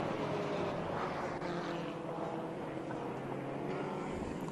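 A 1977 Royale RP24 Formula Ford race car drones steadily at Sonoma in a vintage race, its engine a continuous mid-distance hum blended with a broad rushing wind-like roar and no clear gear changes.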